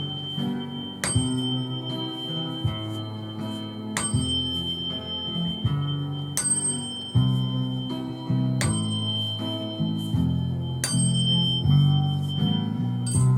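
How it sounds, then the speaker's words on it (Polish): A DNA tuning fork in the key of C rings out. Bright struck tones recur every two to three seconds over sustained, layered musical tones in a calm, steady wash of sound. "I ostatni kamerton, który użyję, to kamerton DNA, który też jest w tonacji C."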